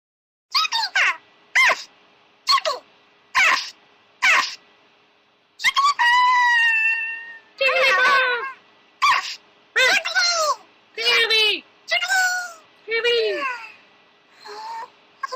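A person imitates Jigglypuff, the Pokémon, in a series of short high squeaky vocal bursts followed by longer warbling sung notes, loud and close, with brief pauses between bursts.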